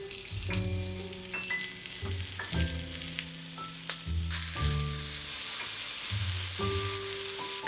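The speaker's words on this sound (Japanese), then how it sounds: "フライパンに薄く油をひいたら片栗粉小さじ1を薄くまぶしながら焼きます。" Bite-size chicken breast pieces frying in a thin layer of oil in a frying pan while being dusted with potato starch, a steady close sizzle with occasional clicks and shifting hisses, under a layer of background music.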